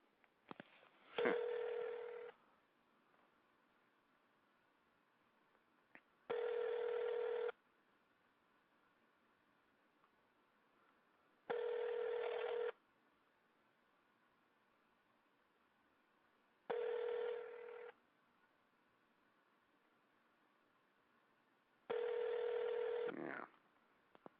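A telephone rings unanswered on a call-in radio show, five evenly spaced ring bursts of about a second each with quiet gaps between, fairly loud and with no talk over them.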